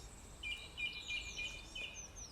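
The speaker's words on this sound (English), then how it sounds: "the gorgeous sounds of the dawn chorus" Dawn chorus birdsong on a spring morning near May Day: several faint, high chirps and short trills repeat at a steady pace over quiet background hiss, distant and soft.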